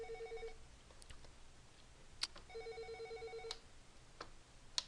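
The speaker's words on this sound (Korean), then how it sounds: "갑자기 전화가 와서" A telephone rings with an incoming call, repeated electronic ring bursts in a regular pattern over quiet room tone, clear and moderately near.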